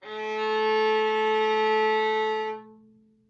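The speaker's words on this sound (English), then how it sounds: "then to play a low A, first finger on the G." One sustained low A on the violin, played with the first finger on the G string, bowed smoothly and evenly, then released so it fades briefly into quiet.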